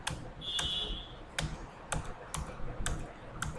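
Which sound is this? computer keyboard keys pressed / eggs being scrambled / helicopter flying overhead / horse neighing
computer keyboard keys pressed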